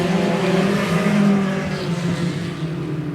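Pack of race cars roaring off at the green flag at 105 Speedway, engines droning loud and steady with layered revving tones, no talk over it.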